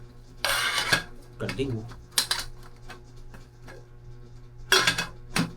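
The lid of new camping cookware is lifted off, giving several sharp metallic clanks and rattles between short stretches of quiet, with a person speaking briefly.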